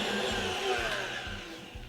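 An electric mixer whirs through vanilla bundt cake batter, a steady close motor drone with a soft rhythmic thump as the beaters turn.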